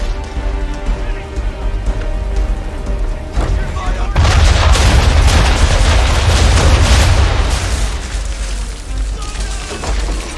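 Ship cannons fire in a naval battle in Assassin's Creed III, heavy booms rolling into a dense, loud rumble of broadband noise that swells after a few seconds and stays sustained, with a voice speaking partway through.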